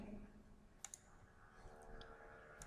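Faint mouse clicks during spreadsheet formula work: a quick double click, then a couple of isolated light clicks a moment later, soft and close over a low background hum.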